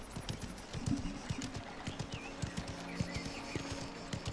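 Steady clip-clop of horse hooves while riding in the video game Mafia: The Old Country, a quick rhythmic gait on a road with occasional snorts, close and continuous under a faint ambient bed.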